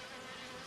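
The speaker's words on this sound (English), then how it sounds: "The bees swarmed round it happily." Bees swarm around the warm boiler of James the steam engine, making a steady, close insect buzz that holds for most of the moment before a louder burst comes in at the end.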